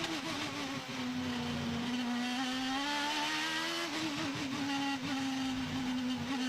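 IndyCar race cars lapping the Long Beach street circuit during the 2010 Toyota Grand Prix, one Panther team car among them: a loud, continuous high-pitched engine whine that holds steady and climbs slightly, with no voices.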